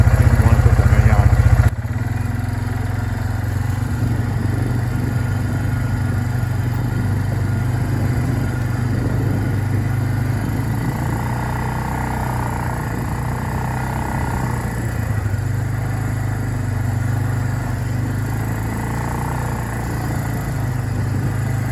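A small automatic maple sap pump runs inside a building, a steady low motor hum with a mechanical drone that holds constant throughout, briefly louder at the start.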